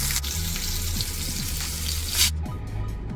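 Pork chop frying in a 10.5-inch Field No. 8 cast iron skillet, a steady close crackling sizzle with a running-water-like hiss that thins out near the end.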